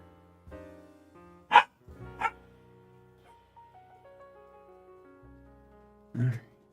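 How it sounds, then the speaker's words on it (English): A dog gives a few sharp, separate barks and yips close by, spread across a few seconds, with quiet background and soft tones between them. "There's the dog."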